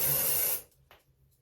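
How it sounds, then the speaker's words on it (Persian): A can of hair spray releases one loud, steady hiss for about half a second close by while hair is being styled, then cuts off, leaving a faint quiet room. "بعد اینکه اسپری میکنم، وقتی اسپری میکنی حتی باعث میشه که طولانی مدت اسپری موهایش ما بکنه"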